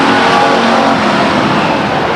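Stock cars race at Stockton 99 Speedway, heard as a loud, continuous roar of engines close by as the field runs down the backstretch toward turn three, with no talk over it.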